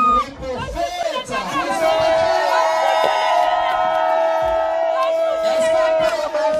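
A festive crowd at a baptism and first communion celebration erupting in loud, sustained cheers, whoops and shouts nearby, with scattered voices woven through the din.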